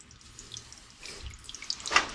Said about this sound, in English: this thing's leaking from right here